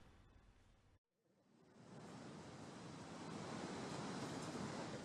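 Ocean waves on the southern beach of Keburuhan village, Ngombol, Purworejo, a steady broad wash of surf mixed with wind noise, briefly cut off before swelling back and building louder.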